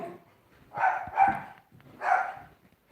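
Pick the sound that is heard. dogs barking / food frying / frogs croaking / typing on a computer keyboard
dogs barking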